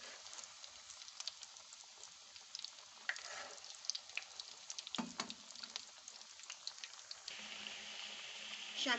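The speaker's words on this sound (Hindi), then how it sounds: "ऑयल गर्म हो चुका है। अब हम इसमें शामियाँ रखेंगे" Chicken shami kababs fry in hot oil, giving a faint, steady sizzle with scattered pops and a brief louder splutter as a kabab is set in the pan.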